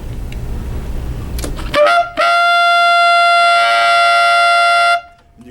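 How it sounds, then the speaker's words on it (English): A tenor saxophone plays a held altissimo G using a fingering with the high F sharp and low C keys, giving a bright, buzzy multiphonic tone sustained for about three seconds after a short breathy attack, close and loud. "You can hear how there's another multiphonic that wants to creep in with that one."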